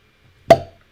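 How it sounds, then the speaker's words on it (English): A cork pops out of a bottle of Uncle Nearest 1856 Tennessee whiskey, one sharp, close hollow pop with a brief ringing tail, alone in quiet. "Uncork."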